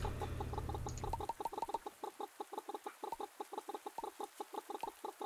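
Rapid, regular clucking from a chicken in the farming video game Pumpkin Days, a close, steady run of short clucks following a brief low hum at the start.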